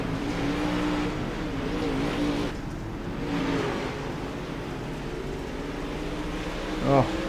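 Dirt track race cars run side by side at Lernerville in a steady, droning engine roar with a buzzing, insect-like whine and rises as they accelerate. The sound carries on throughout, with a brief louder burst near the end.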